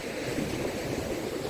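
Sea waves wash onto the shore at an angling spot, a continuous broad rushing surf, steady and moderately loud with no voices.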